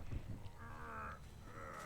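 Crows from the Artist's birds in Dead by Daylight give a few quick caws, close and distinct, in two short bursts over a low game background.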